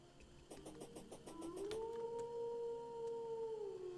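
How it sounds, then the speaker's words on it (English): A howling alert tone from a Twitch stream rises out of game sounds and a burst of rhythmic clicks, then holds as a steady, loud, sustained howl for several seconds. "That was a howling noise, and that's from Twitch."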